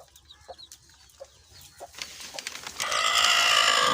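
A hen with her three chicks gives soft, scattered clucks and cheeps, and these give way to a louder, denser run of calls near the end.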